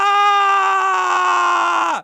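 A scream sound effect played during a tabletop game session, one sustained loud shrill cry held steadily for about two seconds before cutting off abruptly.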